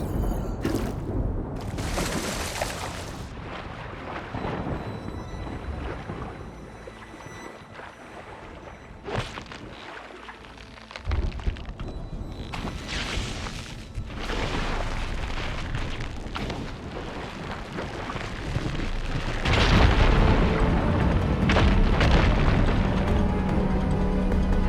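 Fire gleam on rocks ignites and bursts in Horizon Forbidden West, with several heavy booming explosions and rumbling debris, interspersed with footsteps and ambient game sound, loud and close with no speech.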